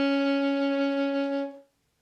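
A single sustained B flat from a saxophone, played by adding the side key to the A fingering. The note is clear and steady, held for about a second and a half before a quick release into silence.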